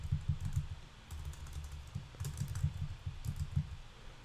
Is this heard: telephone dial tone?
no